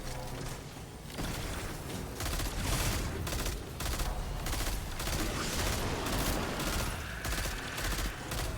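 Rapid gunfire in the video game Destiny 2, bursts of automatic shots and sharp cracks that rattle on almost without pause, loud and close, with mechanical clanks mixed in and no talking.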